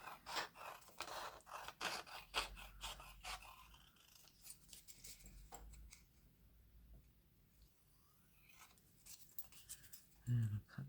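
Scissors snipping through paper for a mushroom-themed journal craft project, a run of close crisp cuts with scraping rustles, easing off midway before a few more snips and a louder bump at the end; a voice talks at the start.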